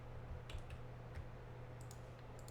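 Faint, sparse keystrokes on a computer keyboard while typing in a code editor, a few soft clicks in small clusters over a low steady hum.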